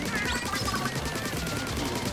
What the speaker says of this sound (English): He fires multiple lasers in this mode.